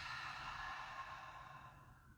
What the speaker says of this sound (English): A full inhale through the nose and a big exhale with ease.